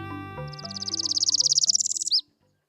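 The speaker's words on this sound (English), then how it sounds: "The northern parula is a tiny bird with a big personality." A northern parula warbler sings close and clear, a rising buzzy trill of rapid high notes ending in a sharp upward flick, over soft background music.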